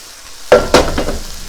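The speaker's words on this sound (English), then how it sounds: "Save some and make a little fried rice." Kimchi fried rice being stirred in a hot pan, two sharp scraping stirs followed by a short, close sizzle.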